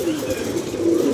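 Pigeons coo softly and repeatedly close by, a low throaty burbling rolling continuously through the short moment.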